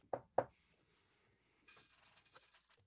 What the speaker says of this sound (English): Knock on his door.